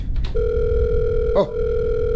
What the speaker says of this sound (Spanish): Suena el celular.